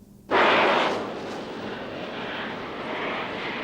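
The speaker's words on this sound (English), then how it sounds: "Israeli planes fly low over Sinai, cutting telephone wires." Israeli planes flying low over Sinai give a sudden loud roaring burst that swells in quickly, then eases into a sustained rumbling drone.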